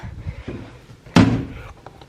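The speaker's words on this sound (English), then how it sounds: "Close the doors." A cabinet door is shut with a single sharp slam partway through, following a few softer handling knocks during a home organizing session.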